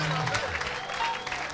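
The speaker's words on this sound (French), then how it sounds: "Somebody put your hands together for the Lord." An audience claps for the Lord at a lively French-English church revival service, steady sustained applause filling the room with a voice talking over it throughout.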